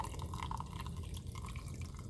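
Hot liquid trickles and splashes steadily as it is poured over honey in a cup to make detox tea, a close, continuous pouring with small drips and no talking.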